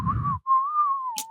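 A person whistles a sustained, wavering tune solo, preceded by a short burst of low talk and a brief sharp click near the end; the melody sits close and clear.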